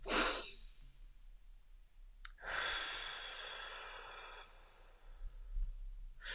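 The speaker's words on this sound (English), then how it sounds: "take a big breath in" A deep breath in: a quick airy exhale opens, then after a pause a long, steady, breathy inhalation lasts a few seconds before fading, close and soft with no talking.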